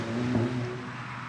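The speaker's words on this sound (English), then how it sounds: "We'll wait for this car." A car rolls past on a residential street, a steady engine and tire rumble swelling briefly and then easing off, close by and unaccompanied by talk.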